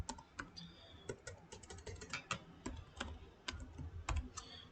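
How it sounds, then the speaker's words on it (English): A computer keyboard types a search term in steady, quiet clicks, with some keystrokes landing sharper and louder, close to the listener and with no talking. "So I type into Google Fritzing, Fritzing."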